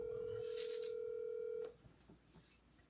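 An outgoing phone call produces a steady ringback tone through a handset, heard close and clean. The tone stops abruptly after about a second and a half, leaving quiet line noise behind.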